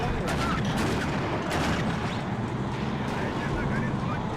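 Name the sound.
artillery fire on enemy mortars in video game WARNO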